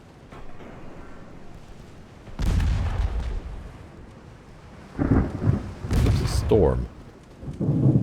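Thunderstorm in the naval warfare game Ultimate Admiral Dreadnoughts, with loud thunder claps rolling in bursts over a steady rain-like hiss, some speech-like sounds mixed in.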